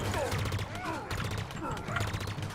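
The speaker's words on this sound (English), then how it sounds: "This gun's just crazy good in the campaign." Rapid bursts of gunfire from a weapon in the Halo Infinite campaign on Legendary, repeated volleys close up and loud, overlapping with someone talking throughout.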